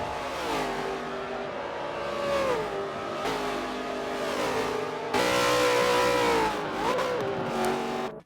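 Race car engines roar around a racetrack in a racing video game, loud continuous revving with repeated rises and drops in pitch as gears shift, with no voices.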